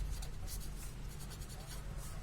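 Chalk or a marker scratches steadily across a classroom board during a maths lesson, a continuous close scraping with rhythmic strokes and no talking over it.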